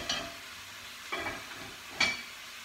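Vegetables sweating in a pot for a sausage ragu get stirred, with three short scraping, sizzling sweeps of a spoon over a steady low frying hiss.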